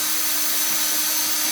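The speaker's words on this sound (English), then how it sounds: "that's with the drill in first gear" A two-speed cordless drill in first gear driving a Trailer Valet drill-powered trailer jack, a loud, continuous whirring hum held steady close by throughout.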